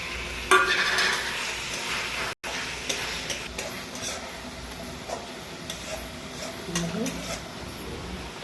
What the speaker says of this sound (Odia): ଅଣ୍ଡାକୁ ପକାଇକି କଷିବା।